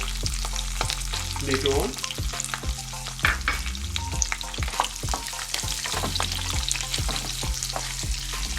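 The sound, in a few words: ginger and garlic frying in olive oil on low flame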